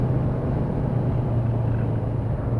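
A 2015 Kawasaki Ninja 1000 motorcycle being ridden gives off a steady, close engine drone with low rumble and wind-like noise, holding an even level throughout.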